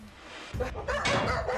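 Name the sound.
dog barking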